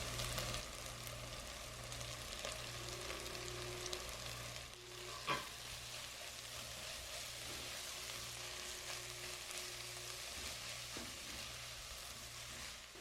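Shredded chicken and grated carrot fry in a pan with a steady close sizzle, while a spoon stirs and scrapes now and then, with no talk.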